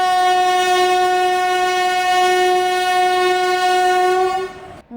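A train at Muzaffarpur railway junction sounds a loud, sustained horn blast that holds one steady tone for about four and a half seconds and then cuts off abruptly, with no voices.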